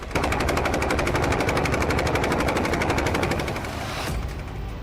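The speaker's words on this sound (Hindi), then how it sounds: "ये गन 20 mm कैलिबर की है। 1 मिनट में ये गन 800 राउंड फायर करती है" A 20 mm helicopter-mounted gun fires a sustained, rapid, loud burst of rounds at about 800 per minute, a dense continuous rattle that cuts off near the end, leaving a lingering rumble.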